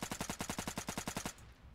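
Rapid automatic gunfire in the shooter game Burst, a burst of about a dozen evenly spaced sharp shots in quick rhythm, then a sudden stop into a faint low tail.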